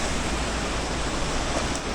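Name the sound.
running water in mountain gulch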